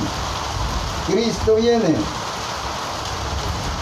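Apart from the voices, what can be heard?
rain falling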